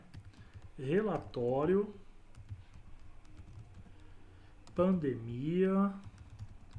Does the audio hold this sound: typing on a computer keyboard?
yes